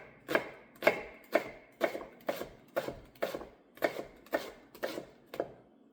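Steady knife strokes through a leek on a cutting board for seafood stock, about eleven crisp, evenly spaced chops over six seconds, close and clear with no talking.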